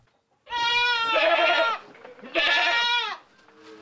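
Two long, loud, wavering bleats from goats on a small Indonesian farm, close by with a short pause between them and quiet surroundings.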